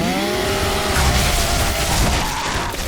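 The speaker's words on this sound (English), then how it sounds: "who needs sky lasers when your gun is a chainsaw" The Lancer chainsaw gun from a video game roars in a loud, continuous, grinding mechanical whine with a rising and falling engine pitch, dense and harsh throughout.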